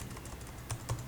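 A username is typed on a computer keyboard in a brief run of quiet, evenly spaced key taps, close by with no talk.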